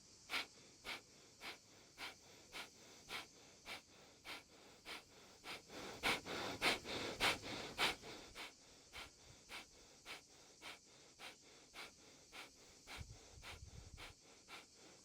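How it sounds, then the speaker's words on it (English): Rhythmic nasal inhales and open-mouth exhales during a yoga breathing exercise, with short regular breaths repeating about twice a second, swelling into a stronger, longer run midway, close and clear with no talking. "Cleansing breath, inhale through your nose. And open mouth, exhale."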